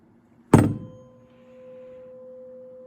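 A tuning fork tuned to the note C is struck once with a sharp thunk, then rings on as a steady, pure sustained tone that lingers quietly to the end.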